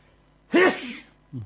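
A man lets out a single sharp sneeze, close and fairly loud, followed a moment later by a short low vocal sound.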